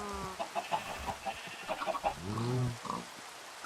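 Minecraft chickens clucking in a quick run of short, mid-pitched blips, with a few clearer cackles and pops from in-game farm actions, all fairly close and without any talking.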